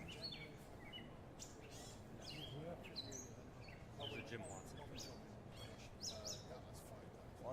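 Faint birds chirp in short, scattered bursts throughout, some higher and some lower, while someone talks over them.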